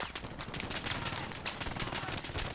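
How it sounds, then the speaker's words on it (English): A tank fires rapidly in the World War II shooter Hell Let Loose, a fast, steady stream of distant, muffled bursts rattling on for a couple of seconds. "Is that a tank? It has to be a tank because it's firing too rapidly."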